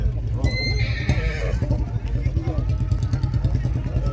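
A horse on a farm neighs loudly up close, the whinny rising and trailing off, while steady hoof clops and stamping continue throughout the clip beneath it.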